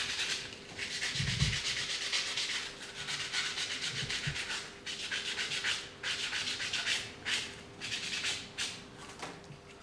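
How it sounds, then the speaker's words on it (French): Sanding a model kit surface by hand, rhythmic back-and-forth rasping strokes repeated steadily and close up, with a couple of low bumps from handling. "Je vais reprendre tout ça au ponçage."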